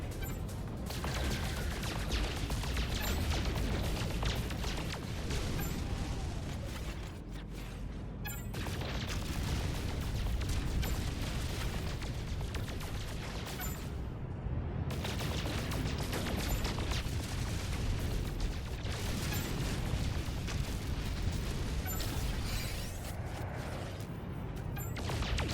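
Continuous dense crackling blasts and booming impacts as asteroids are shot and blown up in the No Man's Sky video game, loud and sustained with brief lulls, no voices.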